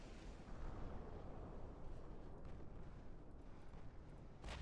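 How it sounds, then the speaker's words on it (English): A torpedo strikes a cruiser during a naval battle in Ultimate Admiral Dreadnoughts, giving a low, rumbling explosive roar that holds steady for several seconds before a sharp burst right at the end. "Yeah, that's another torpedo hit."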